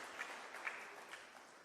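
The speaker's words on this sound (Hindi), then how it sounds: "आप और हम सब जोर से ताली बजाकर उनका सम्मान करें" Audience applause at a Corona Warriors honouring ceremony, a steady wash of clapping from a crowd, moderately faint and continuous throughout.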